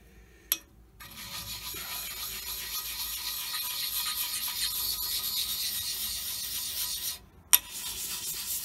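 Hand scraping on a metal surface of an Elliot 14S machine, a steady dry rasping stroke that carries on for several seconds, close and moderately loud, with sharp ticks at the start and end of the pass.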